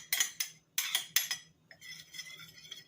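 Potato salad being mixed with a utensil for a Swiss German Härdöpfelsalat with mustard and apple cider vinegar: several sharp clinks and scrapes against a bowl in quick bursts, then a softer, continuous stirring shuffle, close and alone.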